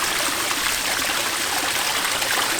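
A garden waterfall runs in early summer, a loud, close, continuous rush and splash of falling water that stays steady throughout with no voices.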